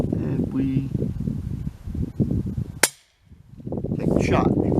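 A Thomas field target air rifle with a match trigger fires a single sharp, loud pellet shot, followed by near silence, with someone talking before and after it.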